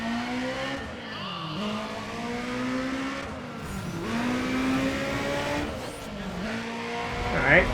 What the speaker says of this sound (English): So doing a nitrous burn in 4th gear, that did a much better time.